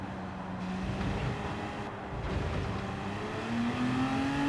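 A GT3 race car engine in Gran Turismo 7 at Circuit de La Sarthe drones steadily and loudly throughout, its tone climbing near the end as the revs build, with no talk over it.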